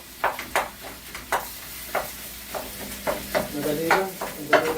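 Food sizzles in a frying pan while a spoon stirs it in a string of scraping strokes, each one a short bright burst over a steady low hiss. The sound is close and moderately loud, and no one speaks.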